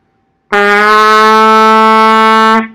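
A single trumpet B note is held steadily for about two seconds, bright and brassy, starting abruptly and cutting off cleanly.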